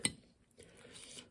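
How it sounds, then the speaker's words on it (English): A knife and fork clink against a plate or bowl while pulling apart harvested produce, a sharp metallic tap at the start followed by soft scraping and light clatter, close and fairly quiet. "I'm using a knife and fork to do this"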